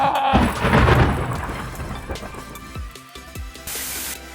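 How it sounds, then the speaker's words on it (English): Thunder rolls across a beach during a walk, a loud low rumble swelling at the start and fading over several seconds amid steady rain and wind noise, with a few softer thuds near the end. "I'm gonna run a little bit because that's thunder"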